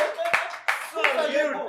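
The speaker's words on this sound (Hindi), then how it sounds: "ये वाली ताली प्लान नहीं थी" Studio audience clapping breaks out during a lively Hindi chat-show interview, a short burst of applause mixed in with talk and laughter.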